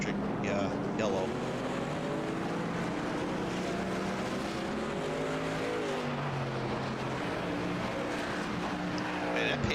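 Pace car from a truck-series racing video game at Sonoma speeds around the track, its steady engine drone running continuously and fairly loud, with harmonic pitch sweeping up and down as it shifts and climbs, under a voice talking over it.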